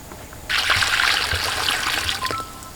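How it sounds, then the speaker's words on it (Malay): Fresh AB fertilizer solution poured into the reservoir pot beneath a cabbage plant, a steady close trickling stream of water for about two seconds that splashes into the container and then tapers off. "Air di dalam pasu takungan di bawah ini kita perlu tukarkan, kita buang dan kita siram menggunakan air baja AB yang"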